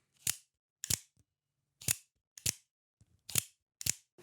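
Mini Zhanshi OTF knife by RavenCrest Tactical snapping its blade out and back in, six crisp close metallic clicks in quick pairs separated by silence.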